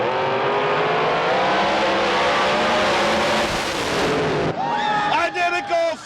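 Drag racing cars at Houston Raceway Park roar off the line together, a loud sustained engine blast that cuts abruptly into the staccato crackle of the engines shutting down, with no talk.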